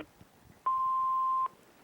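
A single steady electronic voicemail beep sounds for just under a second after a quiet pause, clean and mid-pitched over faint line hiss.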